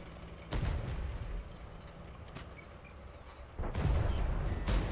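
Two heavy booms from a tank gun in World of Tanks, one early and one later, each a loud blast that rolls off into a rumbling tail over quiet battlefield background.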